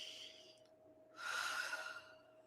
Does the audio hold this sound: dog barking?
no